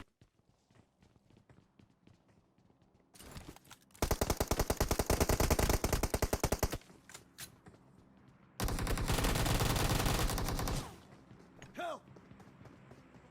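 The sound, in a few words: gunfire in the video game PUBG Mobile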